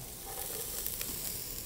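Celery dropped into about a third of a cup of hot oil in a pan: a steady, close sizzle with a continuous hiss and a few faint pops throughout.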